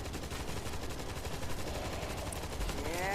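Automated turret in World War Z firing continuously, a dense rapid stream of gunshots at steady loudness with a faint tonal whine rising near the end.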